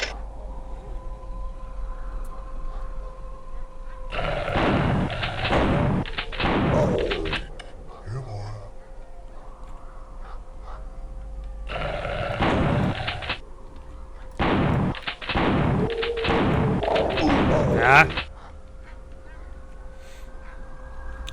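Gunshots in the first-person shooter Killing Time, on an island. Loud bursts of rapid shots come in three separate clusters, with quiet ambient tones and a steady hum between them.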